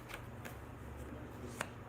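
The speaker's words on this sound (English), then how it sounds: "y'all hear me back here shuffling and talking to y'all" Tarot cards are shuffled softly and steadily, a quiet continuous riffle with a few faint flicks and one sharper snap near the end.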